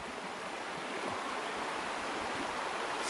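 Flowing water along a Trayfoot Mountain hiking trail, a steady broadband rushing wash with no breaks and no voices.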